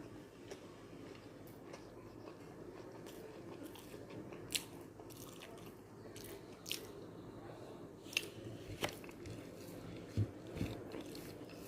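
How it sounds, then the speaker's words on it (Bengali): Someone eating rice mashed with bhorta, soft irregular chewing and squishing bites up close over a steady low background hum, with occasional sharper crunchy clicks. "এই জন্য ভর্তা দিয়ে ভাত খাচ্ছি"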